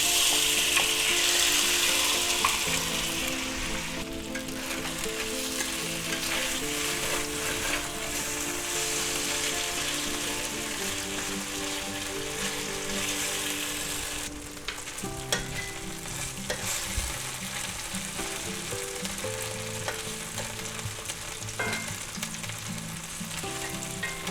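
Marinated shrimp hitting hot peanut oil in a pan, a loud, steady sizzle that carries on for the whole stretch, with occasional utensil clinks and scrapes as they are spread out, no talk.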